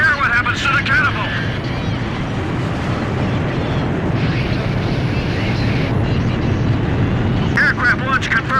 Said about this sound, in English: Aircraft launch confirmed.